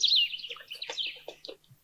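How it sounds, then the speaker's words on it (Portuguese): A family of bico-de-osso birds calls from a tree canopy in the Caatinga, with quick bright chirps and tweets tumbling over one another, fairly close and clear against a quiet background. "uma família de pássaros bicos de osso entoa seu canto"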